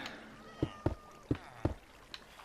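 Several short cat meows, four or five in quick succession, come from cats in Minecraft Bedrock Edition, faint and close against a quiet background.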